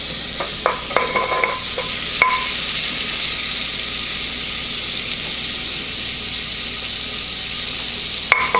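Butter melting slowly in a pot for a mac and cheese sauce gives a steady, soft sizzle throughout, with a few clinks of a utensil against the pot near the start and end.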